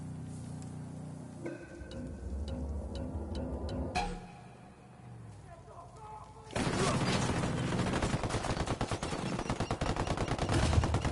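Gunfire in Ghost Recon Wildlands, quieter game sounds and scattered shots giving way to a loud, sustained barrage of rapid automatic fire over the last several seconds, with little talk.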